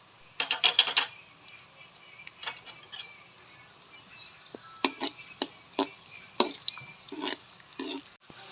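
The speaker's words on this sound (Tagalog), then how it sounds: "Isunod na natin ang sibuyas at bawang. Haluin lamang ito hanggang sa medyo magkulay brown." A utensil stirs onion and garlic sautéing in a pan, making sharp, uneven scraping and tapping clicks against the metal over a faint sizzle, with a quick cluster at the start and scattered strokes after.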